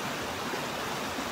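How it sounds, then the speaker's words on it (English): A river flows steadily and close by, a continuous broadband rush of water at a hiker's camp on the Pacific Crest Trail. "I'm standing by the river right now"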